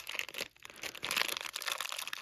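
Plastic bags crinkling while a Monster High Skulltimate Secrets Abbey Bominable doll is unboxed, a close, soft rustle with a brief pause, then steady crackling handling.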